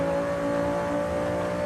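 In Forza Horizon 5, a Lamborghini engine drones at high revs with a strong steady tone for under two seconds. It is loud and alone, with no talk over it.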